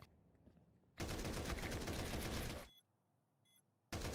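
Heavy sustained automatic gunfire from a tactical shooter in an esports grand final, a loud dense burst of about a second and a half, then a quiet gap with faint clicks before another burst cuts in.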